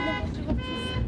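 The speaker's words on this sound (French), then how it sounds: "Concert de klaxon" Car horns honking at a jammed intersection in a traffic jam, several overlapping tones blaring together close by in a brief loud burst.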